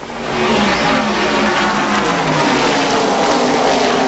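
The number 3 race car of Richard Childress on pit road at the 1981 Daytona 500, heard from an in-car camera as a loud, continuous engine roar that swells in at the start and holds steady throughout.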